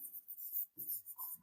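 A pen scratches across paper while a math equation is written out, giving faint, close strokes in short uneven bursts, with no one talking.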